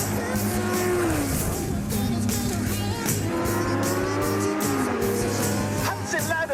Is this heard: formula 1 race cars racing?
yes